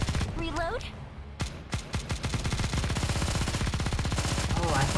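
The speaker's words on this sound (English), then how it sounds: "Oh, I thought she was using an assault rifle. No, she has an LMG." A light machine gun in the Nikke game opens up with a few separate shots, then settles into a long, steady, rapid stream of fire; brief game voice snippets sound at the start and end.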